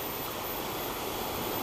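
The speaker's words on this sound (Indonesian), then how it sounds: "Kita berada di aliran sungai." A mountain river at Telaga Sunyi, Baturaden, near Purwokerto, rushes in a constant broadband roar, steady and close with no pauses or voices.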